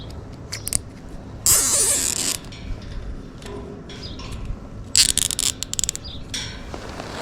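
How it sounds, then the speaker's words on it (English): A Panduit nylon cable tie is ratcheted tight around a fan motor plug, giving two bursts of rapid zipping clicks, close and crisp, with quieter handling noises between them. "So I'm going to take a Panduit strap all the way around and hold that plug."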